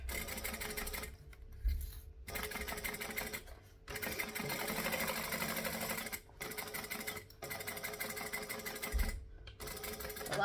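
A sewing machine top stitching a travel bag at stitch length 4, running in steady bursts with brief pauses between them, close and loud with no talking.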